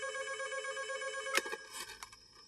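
A telephone rings after a call is placed, a steady electronic trilling ring that is briefly interrupted by a couple of sharp clicks and handling bumps near the end.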